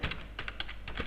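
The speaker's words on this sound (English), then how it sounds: "Here let us type" Keys clack on a computer keyboard in a short run of quick, close presses, a handful of distinct taps in irregular rhythm with a low hum underneath.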